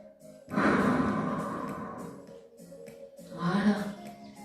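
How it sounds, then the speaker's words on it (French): A slow, controlled exhale during a gentle seated relaxation exercise for seniors, one long breathy sigh swelling then fading, followed by a second softer breath out near the end. "on souffle dans la longueur"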